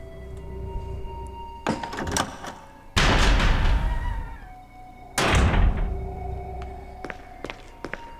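A heavy door in the Resident Evil REmake game opens with two loud, booming creaks and thuds a couple of seconds apart, framed by footsteps and small clicks around them.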